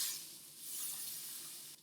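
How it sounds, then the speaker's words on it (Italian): Garlic sizzles in olive oil in a pan while being stirred, a soft continuous crackling hiss that swells and fades slightly, close and alone. "aggiungo un altro poco di olio, giro anche il mio aglio e lascio cuocere"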